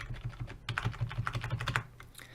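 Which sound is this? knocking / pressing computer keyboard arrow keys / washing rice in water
pressing computer keyboard arrow keys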